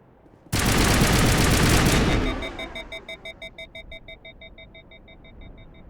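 A fast automatic-weapon burst in the video game Mass Effect, loud and dense for about two seconds, then trailing into evenly pulsing electronic tones that fade out.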